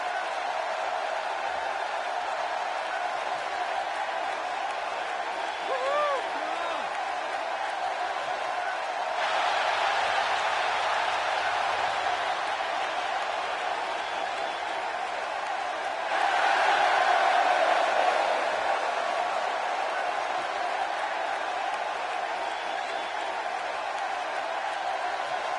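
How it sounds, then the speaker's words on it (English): A capacity arena crowd in the WWE 2K16 wrestling video game roars steadily throughout, swelling louder twice with a few whistles rising above the constant din. "This place is deafening. Listen to it. The capacity crowd on its feet"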